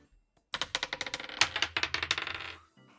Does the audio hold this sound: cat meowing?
no